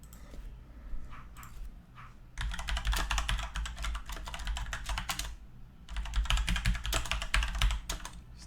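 Rapid clattering keystrokes on a computer keyboard during a Roblox game session, coming in two dense bursts separated by a brief lull, close and fairly loud with no talk over it.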